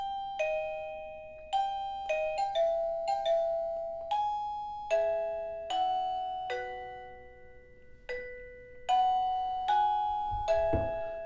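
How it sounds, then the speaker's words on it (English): Wireless doorbell chime playing the four-note Westminster melody over and over, each ringing tone decaying before the next, with a short pause midway and a thump near the end. "So that's the 4-note Westminster chime"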